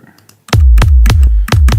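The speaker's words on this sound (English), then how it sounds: "That definitely is a trance kick." Trance kick drum for a progressive trance track, four loud punchy thumps in a steady beat, each with a sharp click and a deep booming tail, after a quiet moment of faint noise.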